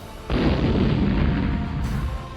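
A GBU-43 MOAB bomb detonating in Afghanistan, a sudden deep boom bursting in and rumbling on in a sustained low roar, with no voices over it.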